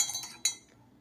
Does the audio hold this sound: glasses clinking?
yes